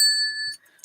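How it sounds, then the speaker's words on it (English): A single bright ding from the little bell of a true/false quiz toy with a timer rings out close and clear, then fades over half a second before a light clatter. "It comes with a little bell."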